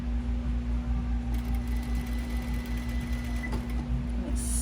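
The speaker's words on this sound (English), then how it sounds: "Just sewing along, pulling my pins, throwing them over in the bowl." Domestic sewing machine running steadily while stitching a Closet Core Carolyn pajama shirt seam, a close, continuous mechanical hum with a rapid needle rhythm and brief changes in pace.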